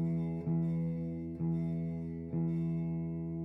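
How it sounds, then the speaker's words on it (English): Three plucks of a guitar's open sixth string, the low E, each ringing and decaying before the next, evenly spaced about a second apart, close and clear with no talk. "the sixth string, closest to you, the biggest or thickest string. This string is an E string."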